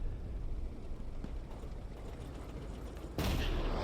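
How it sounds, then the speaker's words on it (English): Bullet ricochets and gunfire rattle through a steady din of distant battle in Hell Let Loose, a World War II shooter, with a sudden louder burst near the end. "Ricochet after ricochet."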